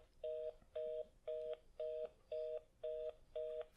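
Telephone call tones from a phone line, seven evenly spaced beeps, each about a third of a second with short gaps between, clear and steady, heard alone with no talking.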